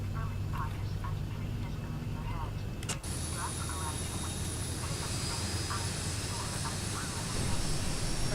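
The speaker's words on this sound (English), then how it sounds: "Stand by. Engine 1 starts." Engine 1 of a Boeing 737-800 in X-Plane 11 spools up at Stansted, a steady jet whine that rises sharply after a click and holds as a loud hum, with faint voices underneath.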